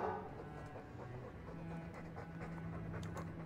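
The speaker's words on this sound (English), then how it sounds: "I'm sick of what's-his-name staring and panting" A Mabari war dog in Dragon Age 2 pants steadily and softly at close range in a quiet scene, a continuous breathy rhythm with no talking.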